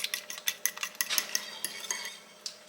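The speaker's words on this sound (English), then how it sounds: "Just get that all mixed up in your egg mixture" A utensil stirring cinnamon into an egg mixture in a bowl, a quick series of light clinking taps against the dish in an uneven rhythm, close and clear with no talking.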